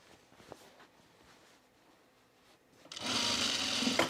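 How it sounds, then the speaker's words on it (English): A sewing machine stitches down a coat sleeve, starting up near the end with a loud, steady, close whir after quiet handling noises. "I'm going to stitch this down this time first"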